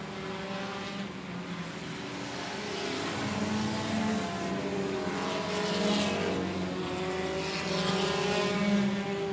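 Race cars lap the oval at 105 Speedway, a black and yellow number 4 among them running through turns 1 and 2, as a continuous, swelling roar of engines with no voices.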